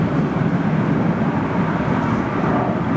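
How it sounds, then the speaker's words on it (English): A heavy airliner bound for Nairobi climbs out of London Heathrow in a high left turn, its engines producing a loud, steady broadband roar without breaks. "That's a high left turn for a Nairobi-bound aircraft."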